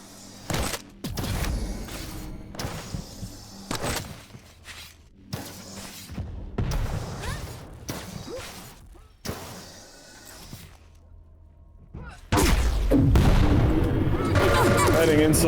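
Railgun shots and rocket blasts in a fast arena shooter match, sharp repeated bursts and explosions in quick succession with a commentator talking over them, ending in a loud sustained roar.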